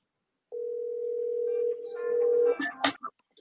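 A phone call placed on speakerphone: a steady dial tone holds for about two seconds, then gives way to a burst of dialing beeps and clicks as the call connects.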